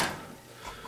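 A tool box drawer slides open with a short, close metallic scrape and a soft rattle of contents.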